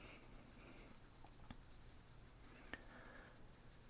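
Colored pencil strokes scratch steadily across paper while coloring a lily flower, a soft continuous scratchy patter close by with no talking.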